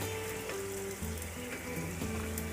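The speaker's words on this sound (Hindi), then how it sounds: "तो इसको हम दोबारा से फ्राई कर रहे हैं और इसको अच्छा सा क्रिस्पी करेंगे।" Aloo tikki (spiced potato patties) fried a second time in hot oil until crispy, giving a steady, close sizzle and crackle throughout, with no voices.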